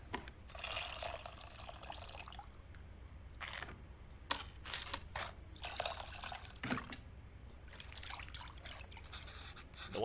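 Water trickles and drips steadily while tamarind is squeezed and extracted in the cooking game Venba, with repeated short pouring bursts over a soft continuous flow and no talking.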